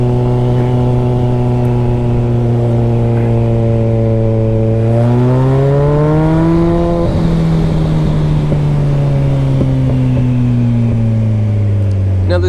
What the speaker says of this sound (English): Now the ZX-14 is an extremely fast bike.